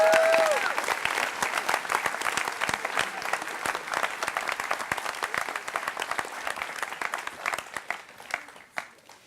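Audience applause at the Putney School graduation, welcoming speaker Laura Henderson outdoors: dense, steady clapping from a large crowd lasting several seconds, loud at first, then thinning and fading toward the end.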